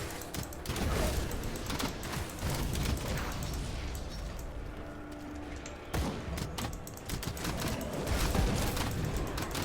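Dense, sustained bursts of gunfire and booming impacts from enemies in the action RPG Grim Dawn, loud and continuous with scattered sharper shots, no talk.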